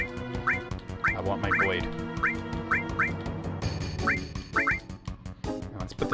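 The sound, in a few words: birds quacking in Final Fantasy VII video game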